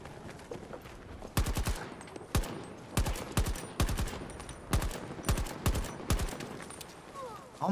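Bursts of video game gunfire, sharp repeated shots and short volleys spaced irregularly across the clip, loud against a quieter background hum.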